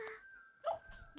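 Puppy Neva, a young dog in the Neva video game, gives soft whimpering yips and a short bark-like cry over quiet game music, faint and brief.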